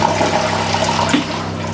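A toilet with its flapper removed flushes loudly and steadily, water rushing and running continuously up close for the whole stretch with no letup.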